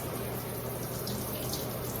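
A home shower running, a steady hiss of spraying water with a faint hum underneath, constant and fairly close with no speech.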